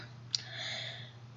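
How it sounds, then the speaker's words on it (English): A single sharp computer mouse click, close and quiet, over a steady low electrical hum. "you're just going to want to double click on that"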